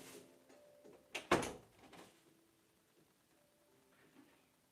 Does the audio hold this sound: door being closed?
yes